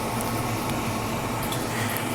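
Cleaner being flushed through an airbrush while building a Model Factory Hiro Alfa Tipo 33/2 kit, a steady close hiss of air and spraying liquid with a faint wet gurgle, continuous and alone.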